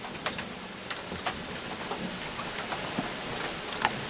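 Rain falling during a thunderstorm at an off-grid property, heard as a steady, moderately faint hiss with scattered light ticking drops on a surface close by.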